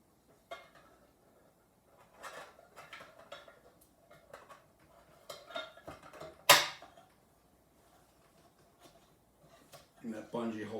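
Parts of a Stanley Base Camp cook set are packed away and the lid is put on. The result is scattered metallic clinks and clatters, with one sharp loud clank near the middle and more rattling at the end.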